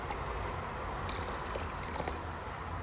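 Grape vinegar poured into a container of water to make a cleaning solution: a steady close splashing and trickling stream with scattered drips, continuous and alone.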